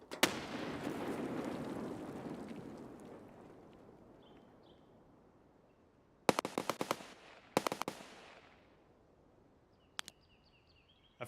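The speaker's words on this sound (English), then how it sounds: "That fucking grenade sounded like it was right here." A grenade explosion in Escape From Tarkov opens with a loud, close blast whose rumble fades over several seconds. Sharp bursts of gunfire follow, with a few isolated distant cracks after them. No one speaks.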